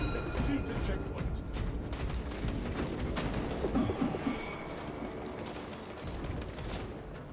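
Steady gunfire and battle noise in Space Marine 2, dense and continuous across the whole stretch with bursts layered over a constant roar, while a voice speaks over the combat.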